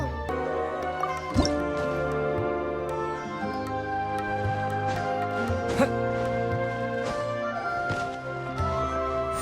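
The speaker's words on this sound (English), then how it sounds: "Wow, another Water Droplet just came out from the wall!" In the Genshin Impact game, water droplets emerge from a wall with soft, wet dripping and squishy liquid plops, one after another over a sustained tonal music bed.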